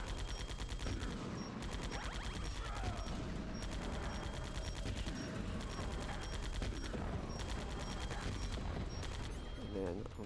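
Rapid gunfire in Metal Gear Solid: The Twin Snakes, dense bursts of shots and impacts running continuously over game music and effects, loud and up front.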